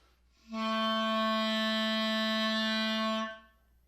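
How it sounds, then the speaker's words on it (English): A clarinet sustains a single low B natural for about three seconds, with a clean start and a gentle release, alone in quiet. "Your new low note is the note B natural and requires more fingers."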